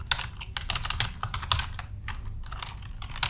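A command being typed on a computer keyboard, with quick, irregular clicking keystrokes, close and clear, with no voices.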